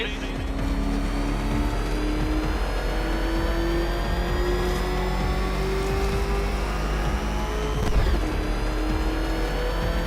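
The Batmobile's engine in Batman: Arkham Knight races with a steady, loud, high-pitched whine, climbing gradually in pitch and holding it over roughly ten seconds, with a brief surge near the end.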